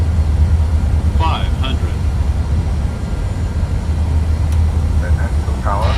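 An airliner in Microsoft Flight Simulator 2020 rolls for takeoff with a steady, loud engine roar, while radio voices talk over it.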